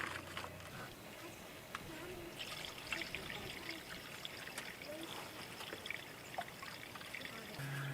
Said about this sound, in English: will fill up the coolant container with water